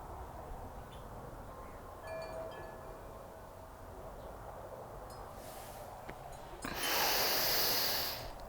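A long, forceful exhale during a stomach vacuum exercise, leaning forward with hands on the knees, a breathy rush of air that swells near the end over a quiet room.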